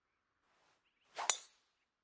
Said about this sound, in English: Oh man, there's a drive.